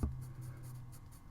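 Pencil or graphite scratching across paper while shading dark areas of a horse drawing, a steady close, faint scraping with soft strokes and no talking.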